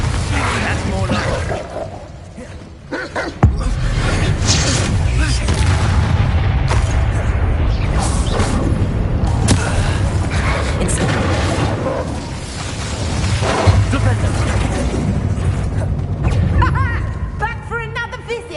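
Heavy booms from Bombarda and Incendio explosion spells in Hogwarts Legacy, loud dull blasts and crashes during a spell fight, mixed with spoken combat lines from characters.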